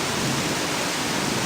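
Heavy rain pouring down steadily around a flooded house, a dense, even hiss of water that holds at the same loud level throughout with no voices.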